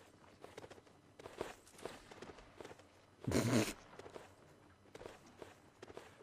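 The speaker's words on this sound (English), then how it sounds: "Now, I hear lots of horsey footsteps." Soft, scattered hoofbeats of many horses move across a Napoleonic-era line battle in Mount & Blade: Napoleonic Wars, faint and irregular, with one louder rustling burst midway.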